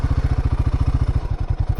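A motorcycle engine idles on a hill road with a steady, close, thumping pulse at an even rhythm, loud and alone, slightly uneven near the end.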